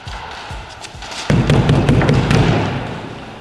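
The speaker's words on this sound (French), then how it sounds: "nous allons détruire une maison en contreplaqué" A ball of aluminium foil smashes into a plywood house, with a few dull thuds followed by a loud impact and a burst of crashing, cracking debris that slowly settles.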